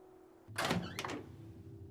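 A door opens in the video game Tell Me Why, a single quiet thunk followed by a short scraping creak over a low, steady background hum.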